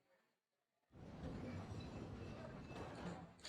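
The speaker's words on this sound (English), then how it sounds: "When we ride on the little train thingy," A roller coaster train ride in a video game starts after a brief near-silence with a sudden, sustained rumbling rattle of the cars on the track, loud and continuous to the end.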